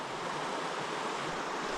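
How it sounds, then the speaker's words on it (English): Fast-flowing river water in a Gippsland stream, running high with winter rainfall: a steady, full broadband rush and hiss, continuous and close, with no voices. "This water's moving quite quick."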